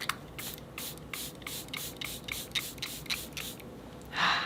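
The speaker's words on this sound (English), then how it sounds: "I'm using the Charlotte Tilbury Airbrush Setting Spray, Flawless Setting Spray" Charlotte Tilbury Airbrush Flawless setting spray pumped from a new bottle, about ten quick, evenly spaced hissing bursts close up, followed by a louder rustle.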